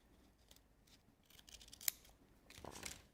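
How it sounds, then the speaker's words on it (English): Scissors snipping a die-cut paper or card decoration to a point, a faint, close rustle of handling followed by a crisp single snip and a second cut near the end, with no voices. "Just snip it off, make it pointed,"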